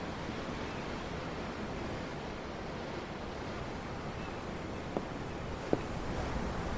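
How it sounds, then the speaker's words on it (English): Steady ocean surf from the Tales of Arise video game washes in a constant broadband roar, with two faint ticks near the end and no talking. "The ocean? Yeah. The waves."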